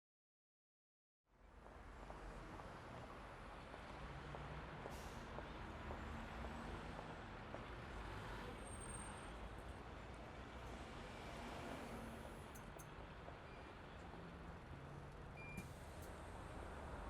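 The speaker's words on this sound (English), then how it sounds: "You are at a bus terminal where you're reading the schedule for long-distance buses." Bus terminal ambience with a steady wash of idling trucks and buses, faint beeps and brief hissing air brakes, heard at a distance with no voices.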